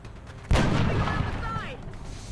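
A grenade blast from the X-Com: Enemy Unknown game (OpenXCom) erupts as one sudden loud boom, then a long rumbling, crackling tail that fades slowly.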